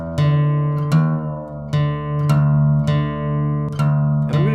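Guitar strings plucked repeatedly while the low E string is tuned down to D for DADGAD tuning, each pluck ringing and decaying with a steady low drone underneath, close and clear with no talking.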